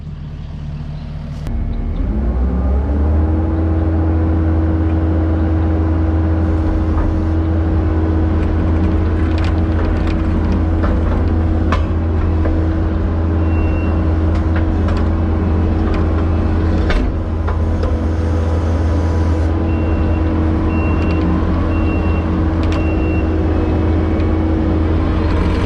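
A skid steer loader runs steadily close by, its diesel engine droning loud and constant with a low rumble throughout as it works and reverses, a faint intermittent beep rising over the engine noise now and then.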